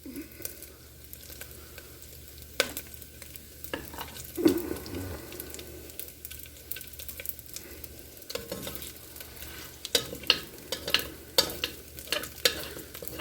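Bacon sizzles and spits in a pan over a campfire, a steady crackling fry broken by scraping stirs and sharp pops.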